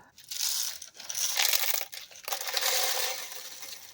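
Pieces of black iridescent glass for resin work are handled up close, giving soft clinking and crinkly rustling in several short bursts with brief pauses between, fairly quiet.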